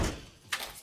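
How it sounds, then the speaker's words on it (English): A door swings shut with a single short thud partway through, preceded by a low muffled rumble of room noise. "Shut the door. Shut the door. Lock it."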